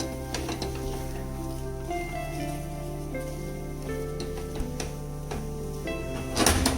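Zunka, a North Karnataka dish, sizzles steadily in an oily pan while being stirred, with a constant hum and occasional clinks and scrapes near the end.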